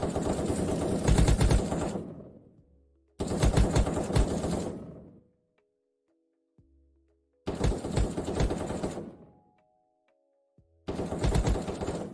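Automatic gunfire in the first-person shooter Krunker rattles in four long, rapid bursts of about two seconds each, loud and close, separated by near-silent gaps with faint game sounds.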